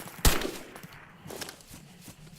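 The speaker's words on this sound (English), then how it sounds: "directly as he sees us, he'll start shooting." An AI-controlled enemy character in a Cryengine game opens fire with a gun: one sharp loud shot followed by a few fainter bursts over steady background noise.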